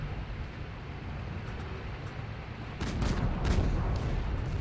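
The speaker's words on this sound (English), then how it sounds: "Looks like a M1 Abrams Tusk is firing at us." An M1 Abrams Tusk tank firing in a video game battle in a Russian city, heavy booming blasts that swell after a steady rumbling background of distant combat.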